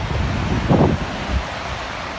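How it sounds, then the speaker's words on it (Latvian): Waves breaking on the Gulf of Riga shore at Plieņciems, Jūrmala, on an autumn day, a steady wash of surf with strong wind buffeting the microphone and a brief louder surge in the middle. "Te nu mēs esam Jūrmalā Plieņciemā pie Rīgas jūras līča, kas, kā redzat, ir krietni vien bangojošāks nekā pati Baltijas jūra."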